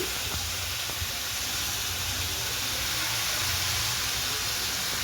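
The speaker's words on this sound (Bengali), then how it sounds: "এবার সোয়া সসটা দিচ্ছে।" Soy sauce poured into a hot pan of onions and spices hisses into a steady, loud, unbroken sizzle that fills the whole stretch, close by with no talk over it.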